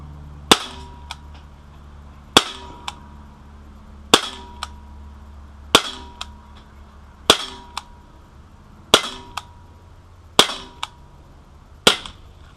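Sig Sauer P250 CO2 blowback .177 caliber pellet pistol firing eight sharp, evenly spaced shots, each followed by a faint tick of the pellet striking the target, with no talking.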